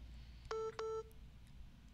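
Two short touch-tone dialing beeps in quick succession on a telephone, clear and close over a faint background hiss, with no talking.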